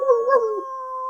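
Short puppy sound effect played back on a live stream, a single high whining howl that wavers and then holds a thin steady tone, clear and close with no talk.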